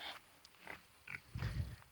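A little black pig grunts softly in a homestead pen, a few quiet, short snuffling grunts ending in a deeper, louder grunt, heard close with no talk.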